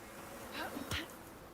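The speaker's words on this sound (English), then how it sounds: "Oh, that's bees." Bees buzz faintly in the survival game ICARUS, a soft insect drone over a low, steady game ambience with one brief passing swell.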